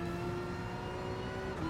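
A Porsche Group 3 race car in a racing video game holds a steady, high engine drone at speed, a continuous whirring tone with no talk over it.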